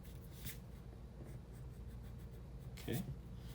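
A pencil scratches across paper while sketching a walnut, giving soft, continuous scribbling strokes with a couple of firmer marks, quiet and close.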